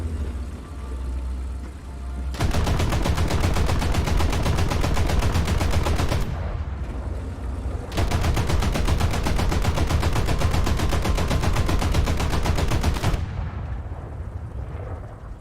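Sustained machine-gun bursts from an anti-aircraft vehicle in War Thunder, long continuous belts of rapid fire with a brief pause between them, loud and close over a rumbling engine.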